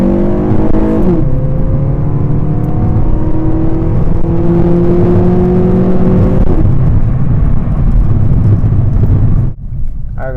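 A 2009 Honda Civic EX pulling away from a dead stop, its intake drawing a loud rising engine note with clear harmonic sweeps that climb, break at a gear change, then climb again before dropping away.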